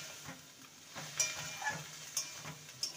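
Boiled chickpea dal, added with its cooking water, sizzles and crackles in a pan as it is stir-fried with spices. A spoon scrapes and clinks against the pan several times over a continuous hiss.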